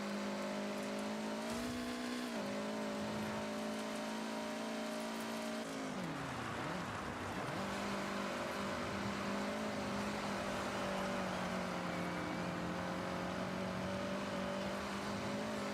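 A race car in Forza Horizon 6 drones at high revs, its engine note climbing, dipping sharply around a shift or boost, then holding a loud steady whine; no talk.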